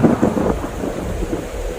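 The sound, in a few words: thunderstorm with rain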